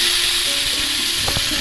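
Eggplant and beans fry together in a pan with salt, giving a soft continuous sizzle, with a few light stirring knocks near the end.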